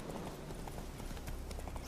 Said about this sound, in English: Riding me a horse.